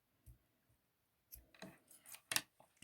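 Small scissors snip off thread tails on a wooden beaded necklace: a few quiet, close, crisp cuts spread across a couple of seconds, with one sharper snip near the end.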